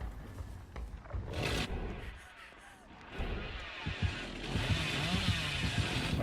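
Chainsaw revving in Dead by Daylight during a league match, a buzzing, roaring engine drone that swells and surges loudly through the second half amid other game noise.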